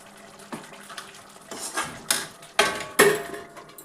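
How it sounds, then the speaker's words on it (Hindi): Dishes being washed at home, with pots and utensils clanking in several sharp knocks that grow louder toward the end, set over a low run of water and close by. "मैंने बर्तन वॉश कर दिए हैं"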